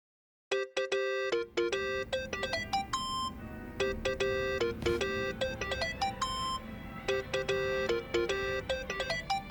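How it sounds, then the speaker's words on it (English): A cell phone rings in the crime game Yakuza: Like A Dragon, a bright electronic melody of chiming notes repeating steadily and loudly for several seconds with no talking. "Think that's your phone, man."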